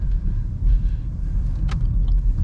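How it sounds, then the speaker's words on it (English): A car rolling slowly and gently on a winter road, tires crunching and churning through snow beneath a steady low rumble, close and continuous with no talking. "You can hear the car's tires working through the snow that's cutting through"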